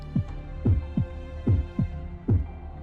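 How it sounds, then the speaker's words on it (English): Deep, slow heartbeat thumps from the Fate/Grand Order video game, paired double beats repeating steadily over a low droning hum, loud and close. "Just listen to that heartbeat"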